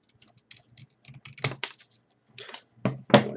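Scissors cutting paper along a marked line for a bottle rocket fin: a quick run of short crisp snips and rustles, close and fairly loud, ending in a few stronger cuts.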